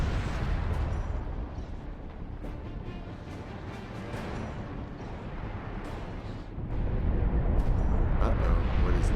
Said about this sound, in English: here we have an Orc ship just firing and blowing everything up